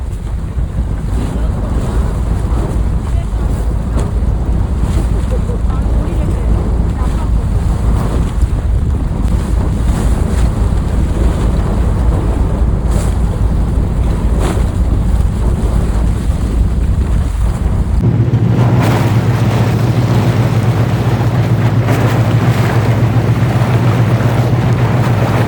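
Sea waves and wind heard from a boat off the coast of Sweden, as a steady, loud roar of water and gusting wind buffeting the microphone throughout, with a deeper rumble taking over in the final few seconds.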